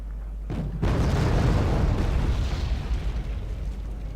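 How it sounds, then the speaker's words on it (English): Cluster bomb explosions in the WarGame: AirLand Battle video game: a sudden loud boom sets in after a brief quieter lead-in, then a dense sustained rumble of overlapping blasts rolls on for several seconds. "Is that the cluster bomb?"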